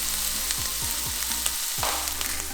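Pieces of venison heart fry in a hot pan with a steady, close sizzle and crackle, a few scraping stirs of a utensil cutting through the constant hiss.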